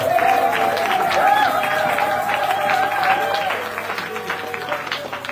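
A church congregation at a Sunday service applauds and cheers loudly at first, then the clapping fades toward the end, with a voice carrying over it.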